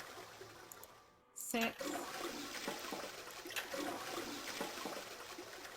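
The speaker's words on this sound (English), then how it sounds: "I heard a loud flushing noise" A toilet flushes in the video game Zero Escape: 999, a loud sudden rushing of water that sets in after a brief silence and carries on steadily, with a voice counting over it.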